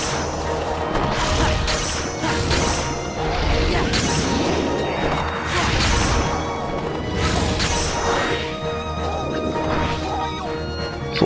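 Repeated rapid combat attacks from the Pegasus Run move in Kingdom Hearts 2 at Olympus Colosseum, a busy string of smashing hits and whooshes with horse whinnies, layered over game music and effects, loud and continuous throughout.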